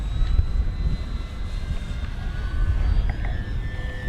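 A flying Dynam Spitfire MK.VB RC floatplane, 1200mm span with a ventral fin, its electric motor and propeller giving a steady airborne whine over wind noise, with slight pitch shifts.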